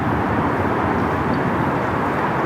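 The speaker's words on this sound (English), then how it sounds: "The mass cargo A330, next one in here on 34 left." Broad, steady roar of a MASkargo Airbus A330 freighter landing on runway 34 left, a loud continuous rush of jet and air noise with no break or voices.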